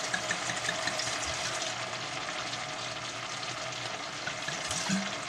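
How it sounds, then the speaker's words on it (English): Wine poured into a pan of Bolognese sauce sizzles steadily, a continuous close frying hiss with faint stirring scrapes and no talking. "Now it's time to add the wine so that we can cook off the alcohol."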